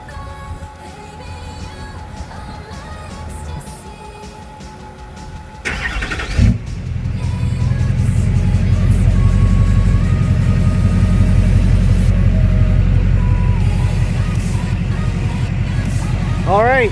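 A Duramax diesel truck engine is cranked and catches, then settles into a loud, steady low diesel idle that rumbles on close by, with a brief clatter at the start and talk heard before it fires.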